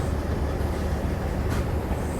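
Agartala Deoghar Express pulling out of Agartala, a loud, steady low rumble of rolling wheels and rail noise that stays constant throughout, with a brief hiss partway through and no voices.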